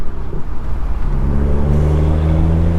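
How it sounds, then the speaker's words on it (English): A 2013 BMW 135i with the N55 engine, running FBO and MHD E30 tuning, accelerates hard, its engine note rising loud and close as it pulls through the gears with a steady rising drone. "it just accelerates through the gears really fast, first and third"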